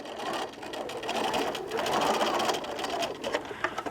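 A domestic sewing machine stitches a small scrap of fabric in a continuous whirring run, close and steady with slight surges in speed, and no talk over it.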